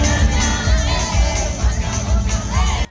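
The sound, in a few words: crowd cheering at China-Africa dance event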